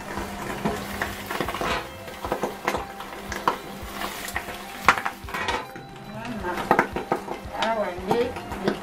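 Makoso caterpillars being fried in a pan bring scattered metallic clinks of utensil against pan and stirring scrapes over a faint sizzle, irregular and close, while someone talks throughout.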